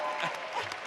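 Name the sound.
audience applause for the auctioneer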